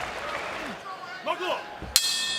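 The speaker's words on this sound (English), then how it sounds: "There is the bell." A single sharp bell clang ends the round at a bare-knuckle fight night, ringing out bright and sustained after a short stretch of ringside commentary and crowd noise.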